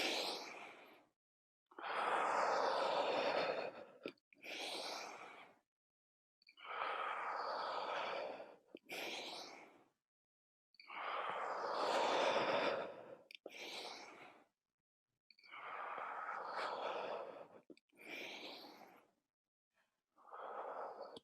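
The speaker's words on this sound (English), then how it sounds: "Two more breaths." Slow, deep breaths during a yoga breathing meditation, each long airy inhale and exhale separated by short silences and repeated about six times in a quiet room.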